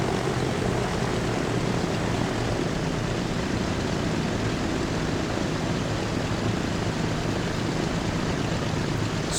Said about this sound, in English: I do imagine that it might get loud in St. Paul with the aircraft.